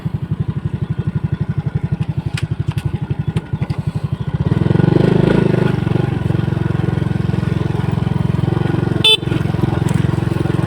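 A trail motorcycle engine in Cebu runs nearby, first with a steady rapid idle-like pulse, then swelling into a louder, sustained rev and drone, with a brief sharp burst near the end.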